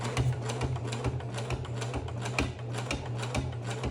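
A sewing machine stitches denim jeans, with leather being tested, running in a fast, steady mechanical rattle of rapid needle strokes, close and continuous throughout.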